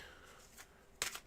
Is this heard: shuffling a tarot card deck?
yes